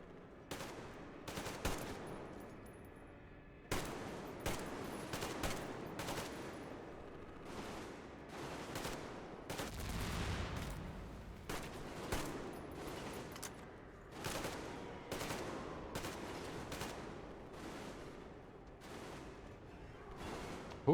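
Repeated bursts of gunfire from several shooters, sharp cracks and rapid volleys firing in clusters throughout, fairly loud with a heavy thump near the middle.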